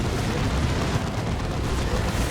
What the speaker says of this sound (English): The Monetary Cannon hits the Phobos.